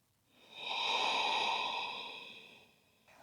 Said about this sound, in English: Taking one more nice deep breath here.